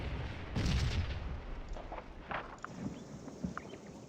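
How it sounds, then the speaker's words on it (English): Artillery fire in the black-powder battle game Scourge of War: a heavy cannon boom near the start, then a scattering of distant thuds and crackling gunfire over a dense rumbling battlefield background, with no voices. "More artillery."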